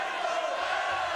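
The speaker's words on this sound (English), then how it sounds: "This crowd's going nuts. This crowd's going nuts." An MMA fight crowd roars steadily, a dense, loud wash of cheering and shouting with no break across the moment.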